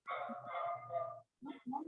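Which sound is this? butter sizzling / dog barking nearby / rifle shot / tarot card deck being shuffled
dog barking nearby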